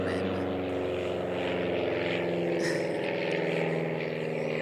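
A propeller airplane passing overhead, a continuous loud droning engine hum that holds steady throughout, with faint background noise mixed in.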